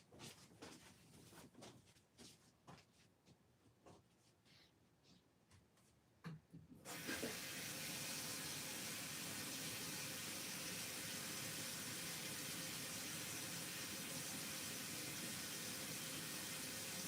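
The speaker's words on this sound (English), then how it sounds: "Let me just wash out this brush." After a few quiet knocks and taps, a faucet opens and tap water runs in a steady, hissing gush into a sink while a paintbrush is washed out. The flow stays constant until the end.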